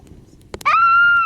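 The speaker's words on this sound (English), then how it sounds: "You guys yell too loud." A child lets out a loud, sustained high-pitched yell outdoors during a hike, one long held cry after a couple of quick knocks, very close and loud.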